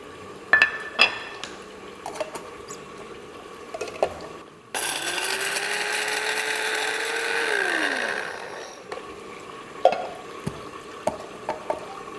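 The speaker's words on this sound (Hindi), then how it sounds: "तो इसे हम पीस लेते हैं।" An electric kitchen grinder pulverizing whole spices, including cinnamon and broken bay leaves. It gives one loud burst of whirring and rattling lasting a few seconds before the motor winds down, with small clinks of utensils before and after.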